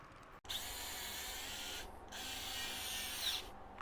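A Parkside 0.20 Nm electric precision screwdriver for electronics whirs steadily as it backs out a small screw, a continuous high motor whine close up, with a brief dip partway through.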